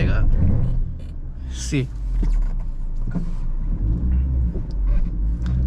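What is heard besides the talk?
Maruti Grand Vitara AWD accelerating off-road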